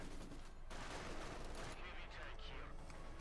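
Machine gun fire in the World War II strategy game Company of Heroes 2, quiet rapid bursts suppressing infantry, blended with a dense wash of other battle noise.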